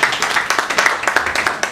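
A church congregation claps in a steady rhythmic beat, loud and close, with cheering voices mixed in throughout the short burst.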